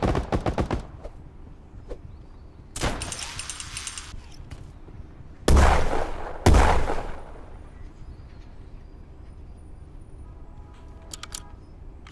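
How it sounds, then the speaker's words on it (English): Video game gunfire in bursts: a short rattle of shots at the start, then a sustained burst, followed by two loud, sharp blasts close together, with quieter scattered pops between them. "Where's he shooting from?"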